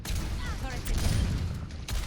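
An enemy turret in Overwatch fires as a dense, continuous rattle of gunfire mixed with game effects and a synthetic voice line, loud and steady throughout.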